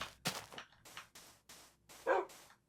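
A tamed wolf in Minecraft gives a few sharp, fairly close barks in an irregular rhythm, with nothing else sounding between them.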